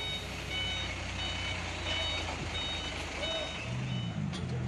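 Heavy equipment sounds repeated reversing beeps at a steady rhythm during recovery of a crashed bus from a ravine in Wado, Sumedang, heard over a low, fairly distant engine rumble with no talking.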